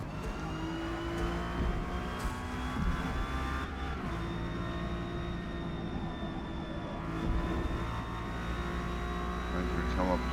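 An Acura NSX S-class race car in Forza Motorsport drones steadily at high revs through a qualifying lap at Grand Oak. The engine note is loud and sustained, with small shifts in pitch.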